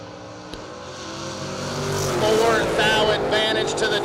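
A nitrous-equipped first-generation Camaro drag races down the strip, its loud roaring engine building and sustaining a revving growl. An announcer talks over it.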